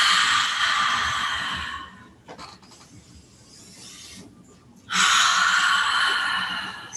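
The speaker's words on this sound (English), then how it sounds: "3 deeper breaths" Deep breaths during hatha yoga practice: a loud, airy breath sound for about two seconds, a quieter stretch, then another strong breath with no talking.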